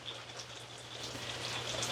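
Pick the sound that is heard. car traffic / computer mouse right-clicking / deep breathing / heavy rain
heavy rain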